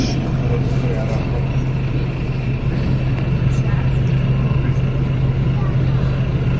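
A route 45 city bus rumbles past near Margit bridge in Budapest, a steady, loud engine drone and traffic roar that holds throughout, with voices faintly audible under it.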